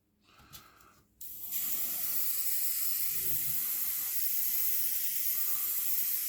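An airbrush fed by a compressor spraying acrylic surface primer onto a scale model, a brief soft rattle and click before a sudden loud, steady hiss that holds evenly close by to the end.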